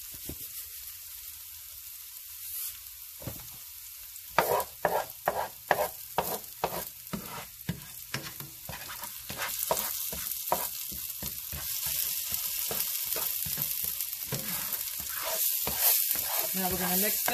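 Garlic fries in oil in a pan, a steady sizzle broken by a run of scraping, clacking stirring strokes in an irregular rhythm, close and fairly loud.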